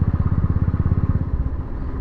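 A Royal Enfield motorcycle fitted with a MotoTorque Launcher Pro exhaust idles up close with a loud, even thumping beat of rapid exhaust pulses that softens slightly toward the end.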